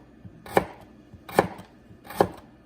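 Radishes are cut with a knife, first halved and then sliced, giving three separate, unhurried chops, close but fairly quiet, with nobody speaking.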